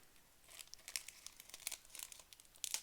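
Double-sided tape peeling away from paper in a quiet room, a series of soft crinkling, tearing crackles that come in short irregular bursts, close and faint.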